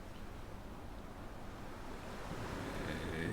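Ocean waves in a video game roll in with a broad, rumbling wash that swells steadily louder, mixed with a windy hiss.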